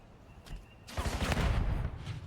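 Call of Duty gunfire during a pro CDL Major esports match between OpTic and LA Thieves: a faint early shot, then a loud, dense burst of rapid automatic fire that rattles on for over a second.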